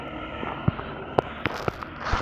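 Explosions from a video game battle royale, a series of sharp bursts and pops scattered across a couple of seconds, moderately loud over steady background game noise.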